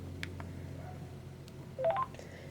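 A Sprint Sanyo SCP-2700 flip phone is unlocked with a quick run of four short, clear keypad beeps in rapid succession, rising in pitch, over a low background hum.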